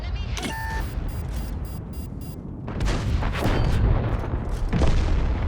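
Heavy tank cannon shots boom in the World of Tanks game, including fire from a Caernarvon Action X and an AMX AC-48 tank destroyer. Several booming blasts come at irregular intervals over a constant rumble of battle.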